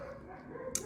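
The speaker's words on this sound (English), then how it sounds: "my dog's barking outside" A pet dog barking outside, heard faintly through the walls of a room with a steady background hum, with a slightly sharper yip near the end.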